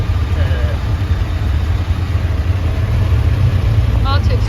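A car crawling through dense, jostling traffic in Phnom Penh, its engine idling steadily and close, with a constant low rumble and faint horn-like chirps near the end.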